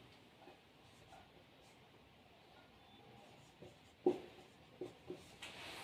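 Chalk or marker scratches across a classroom board in short, quiet strokes, with a few sharper taps near the end, close and faint, no voices.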